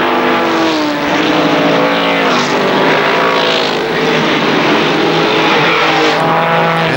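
Race cars at KilKare Speedway, ARCA SuperCars, roaring continuously around the track in a loud, dense engine drone with rising and falling pitch as cars battle and lap one another.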